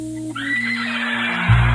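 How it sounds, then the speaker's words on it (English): A horse neigh fired from a soundboard button: a loud, clear whinny rising and holding for over a second, ending with a short low thump, with no talk over it. "Wait, no, wrong button. It's a horse."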